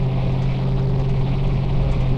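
Mitsubishi HA112-2 1,500 horsepower radial engine of a Kawasaki Ki-100 in Flight Simulator X, a steady loud droning hum with a low throb, constant and alone.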